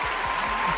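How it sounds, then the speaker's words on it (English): A live crowd cheers and applauds steadily for a guest arriving at a studio broadcast, with dense clapping filling the whole short moment and no gaps. "You can hear the crowd going wild."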